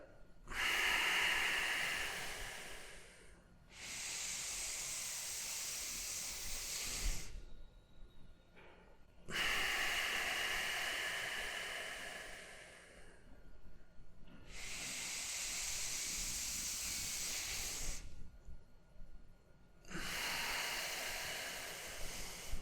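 Deep three-part yogic breaths drawn into the belly, chest and shoulders: four long, loud, airy inhales and exhales close to the microphone, each lasting several seconds, separated by short quiet pauses.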